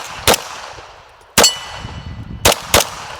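A Stealth Arms Platypus pistol fires four shots at steel targets, each a sharp crack with a ringing clang, the first alone and then three close together, with faint outdoor background between.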